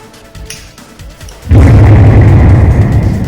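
A bomb goes off with a sudden loud blast that cuts in after a quiet stretch of faint sounds, then a sustained heavy rumbling roar that continues to the end.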